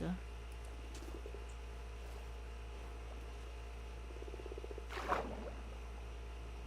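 A frog in the Minecraft video game gives a few soft, low croaks against a steady background hum, with a louder rustling burst near the end.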